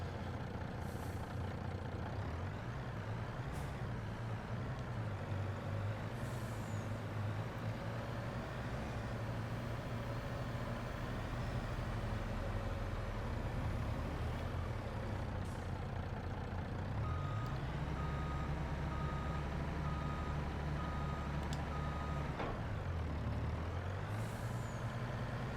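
A truck in Farming Simulator 22 backs up with a steady reversing beeper over its low engine drone, with air-brake hisses partway through. Sustained and close, no speech.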